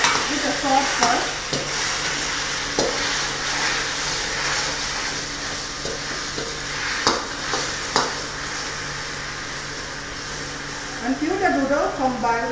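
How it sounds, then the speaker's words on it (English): Noodles tossed and frying in a hot wok with dark and light soy sauce, a steady sizzle broken by scraping stir strokes and clanks, with a voice talking faintly over it. "We fry the noodles with the sauce first."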